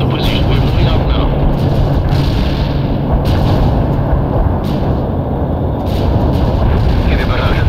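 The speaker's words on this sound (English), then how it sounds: "Heavy barrage annihilated the enemy at the coordinates." Heavy artillery barrage in the Soviet Assault expansion of World in Conflict, a dense, loud, continuous roar of blasts and rumble with sharper cracks breaking through, under the game's battle din.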